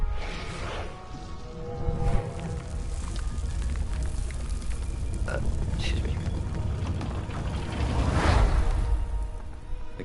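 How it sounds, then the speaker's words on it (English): Toads croaking in the video game Stories: The Path of Destinies, a dense, steady chorus of low croaks over rumbling game ambience, with a few brighter swells rising and fading throughout. "He heard toads croaking"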